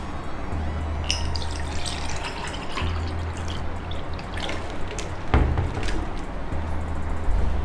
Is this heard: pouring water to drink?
yes